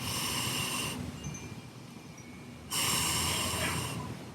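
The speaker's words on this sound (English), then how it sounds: "2 more breaths here in plank." Breath held in a yoga plank outdoors: two slow, loud, hissing breaths, close to the microphone, separated by a quieter pause.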